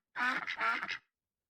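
A duck in RollerCoaster Tycoon 3 quacks in a quick, clear burst of about four nasal quacks, close and moderately loud, then stops abruptly into silence.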